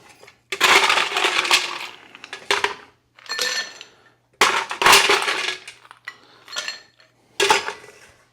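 Ice added to a cocktail mixing glass for an old fashioned variation, several loud bursts of clattering, clinking cubes separated by short gaps, close and alone.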